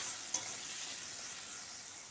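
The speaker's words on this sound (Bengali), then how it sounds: "দিচ্ছি এখানে অল্প করে জিরে আর একটা তেজপাতা ফোড়ন। এরপর আমি দিয়ে দিয়েছি কেটে রাখা আলুগুলো।" Potatoes frying in oil tempered with cumin and a bay leaf give a steady, close sizzle, with a single stir or clink early on and no talking.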